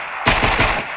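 Pistol fire in a video game, a quick loud burst of several close shots running together in under a second with no talk.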